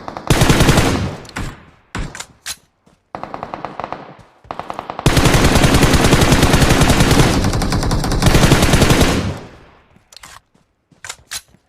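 Automatic gunfire in a battle royale video game, aimed at a BRDM armored vehicle: loud, rapid bursts of machine-gun fire, including a long sustained volley, broken by short pauses and scattered single shots.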